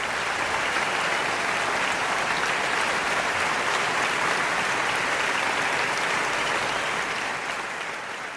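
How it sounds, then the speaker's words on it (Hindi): Dense, sustained applause from an audience in a hall welcoming a speaker, loud and continuous throughout before tapering slightly at the end. "जोरदार तालियों से स्वागत हो जाए"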